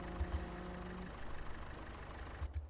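A John Deere tractor idles in Farming Simulator 22, a steady low engine rumble with a faint hum, running continuously and moderately quiet with a few low thumps.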